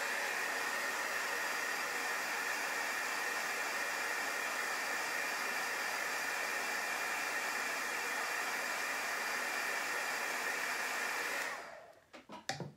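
A hair dryer blows steadily and loudly for about eleven seconds while drying freshly applied chalk paste lettering, then cuts off, leaving a few soft handling clicks.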